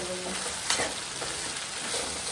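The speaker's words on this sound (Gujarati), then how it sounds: "સાબુદાણાને આપણે તેલમાં સોટે કરીને શેકવાના છે." Sago pearls being sautéed and stirred in hot oil give a continuous soft sizzling hiss, with a brief louder scrape of the spoon partway through.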